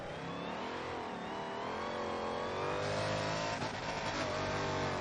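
A hypercar race car in a racing video game roars at high revs as it drifts, with the engine note rising and shifting while faint tire skid noise sits underneath, steady and loud throughout without speech.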